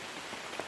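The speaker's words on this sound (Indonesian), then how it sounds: "masih hujan tapi tidak terlalu lebat" Light rain falls in a forest on a hillside trail, a soft continuous patter of drops on leaves and ground, steady and even throughout with no voices.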